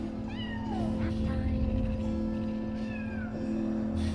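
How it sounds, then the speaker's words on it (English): Huge sleeping cat in the Split Fiction video game, meows and mewing cries rising over a steady game music bed, with voices speaking over the top. "you'll find a huge sleeping cat"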